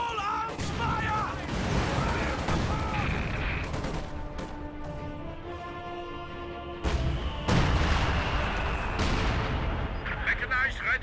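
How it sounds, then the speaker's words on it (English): Small arms gunfire in a military strategy video game, a dense, continuous crackle of rapid shots and heavy booms rolling on for several seconds, with a louder burst near the end. "Small arms fire!"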